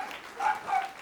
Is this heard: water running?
no